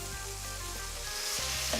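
Tinned diced tomatoes sizzling as they go into a hot pan for shakshuka: a quiet, steady frying hiss with a soft clunk near the end, no voices.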